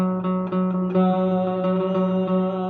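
A single G-flat note is struck on a keyboard, a clear sustained tone re-struck several times in a steady rhythm, alone without talk.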